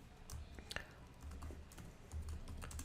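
Fingers type on a computer keyboard, producing quiet, irregular clicks and key taps close to the microphone, with no one speaking.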